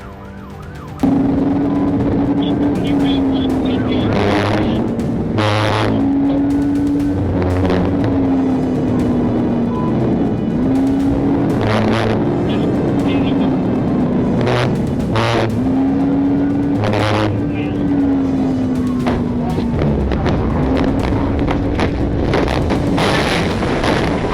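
Cars racing in a high-speed police chase, a police siren wailing in repeated rising and falling cycles over loud engine roar and road noise, close and continuous throughout.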